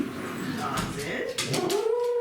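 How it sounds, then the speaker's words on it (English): Dogs whine and whimper as they are let into a room during a home yoga session, a high wavering cry rising near the end over ongoing speech and room noise. "Let these dogs in."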